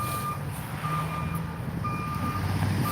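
A truck loaded with dirt backs up, its reversing alarm beeping in a steady repeating pattern over a low, continuous engine rumble close by.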